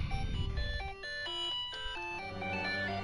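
A phone ringtone plays a bright, stepping electronic melody of distinct sustained tones, fairly quiet and heard alone over a low background rumble.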